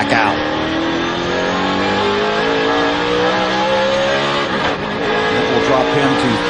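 NASCAR race car at the 2005 Brickyard 400 accelerating back onto the track, engine pitch climbing loudly, with an announcer's voice heard throughout.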